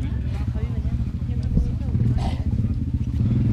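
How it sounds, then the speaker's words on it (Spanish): A motorcycle engine rumbles close by on a mountain road during a trail race in Muniellos, Asturias, while spectators shout encouragement over it. "Cuidado el de la moto, joder."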